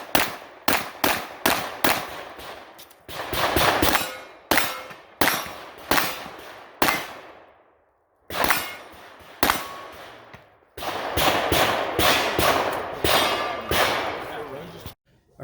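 Pistol gunshots at a USPSA match striking steel popper targets, sharp cracks fired in quick bursts with brief pauses between strings, loud and close, with ringing metallic hits mixed in.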